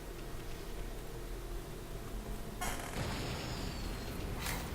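A bomb goes off in the video game Okami with a sudden bright burst and crackle against a quiet hissing background.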